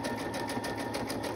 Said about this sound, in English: This is what happens when you sew on camera.